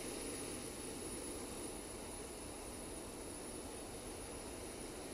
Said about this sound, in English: And then we'll start the engines.